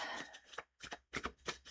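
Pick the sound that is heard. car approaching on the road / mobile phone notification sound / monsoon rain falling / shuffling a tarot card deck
shuffling a tarot card deck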